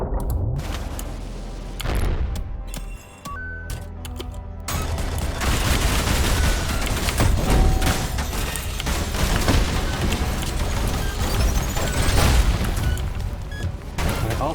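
Rapid coin-shot gunfire in the fast first-person shooter ULTRAKILL: dense, loud bursts of shots and booming impacts crackle almost without a break, with a brief lull near the start before the barrage resumes.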